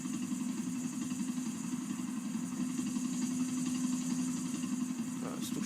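Vehicle engine in the game GTA 4, a steady droning hum that rises slightly in intensity as it accelerates, sustained throughout with no talk.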